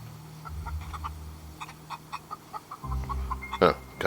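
Chicken clucking in The Outer Worlds video game, a string of short, close clucks over a low game hum, ending with a louder squawk.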